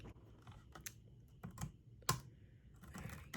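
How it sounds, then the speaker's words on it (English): Computer keyboard typing in a quiet bookshop role-play setting, a few scattered key presses and one sharper clack, close and soft with no talking. "I'll type some things and then"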